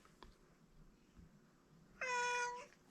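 A cat gives a single short, clear meow near the end, after a quiet stretch of faint room noise.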